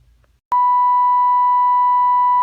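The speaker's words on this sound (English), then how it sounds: "Got the signal generator connected, the dial set to 600 on the AM band." Steady pure tone from a signal generator connected to a Philco 41-265 antique radio set to 600 on the AM band, starting abruptly after a brief quiet hum and holding loud and unbroken.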